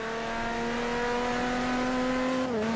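A car engine held at high, loud revs gives a steady droning tone, then the pitch briefly dips near the end as if a gear change.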